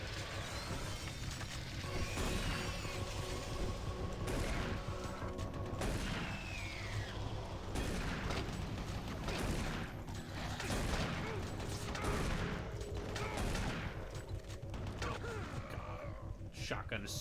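Shotgun blasts and mechanical clacks in a Doom 3-style horror first-person shooter, repeated sharp shots and reload clatter packed densely through the whole stretch, loud and busy with game noise and speech underneath.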